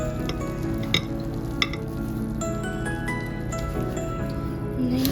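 A big spoon scoops hot French toast casserole out of its dish with soft, wet squishing and scraping and a couple of light clinks against the dish, fairly close and steady.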